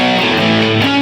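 Distorted electric guitar note slides down from around the 16th fret on the A string, one continuous gliding pitch drop that settles onto a sustained note, loud and close with no talking.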